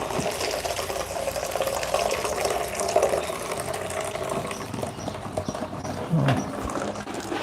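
Liquid for homemade plant-based milk is poured into a bowl through something laid over the top, making a continuous splashing trickle with a few knocks and handling noises along the way.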